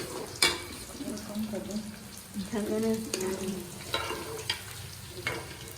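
Onions fry in hot oil in a home kitchen, giving a steady sizzle with stirring clatter while someone speaks briefly in Hindi.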